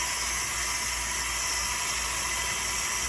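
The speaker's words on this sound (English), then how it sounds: "the hot steam is coming out of here" Steady broadband hiss of hot steam venting from a T-fal pressure canning pot, continuous and fairly loud with no pauses or talking.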